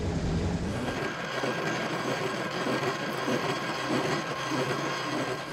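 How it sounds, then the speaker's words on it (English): A team drilling entry holes through a thick sea ice sheet, where a steady, loud grinding drone with a rattling mechanical texture runs continuously for several seconds at close range, with no voices. "the team drills entry holes."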